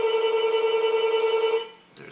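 A phone rings with a steady, buzzing, warbling tone, loud and close, for about a second and a half before cutting off into quieter room noise.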